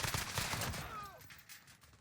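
Rapid gunfire from an M13 rifle in Call of Duty Modern Warfare, a dense burst of shots packed together through the first second, then fading into quieter game noise with a brief whistling tone.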